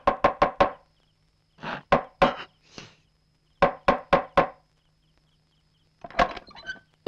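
Knocking on a wooden door, heard as three separate bursts of rapid raps, each burst holding three to five sharp, close, fairly loud strikes with silent gaps between, followed by a brief rattle at the end.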